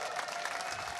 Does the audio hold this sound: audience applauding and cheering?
yes